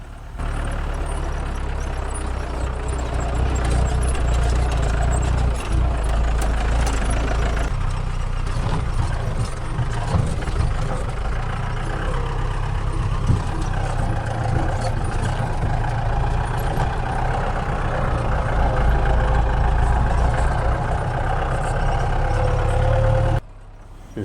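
A jeep engine drones steadily and close on a narrow mountain road in southern Tamil Nadu, a continuous low rumble with occasional rattles and bumps that runs without pause for the whole stretch.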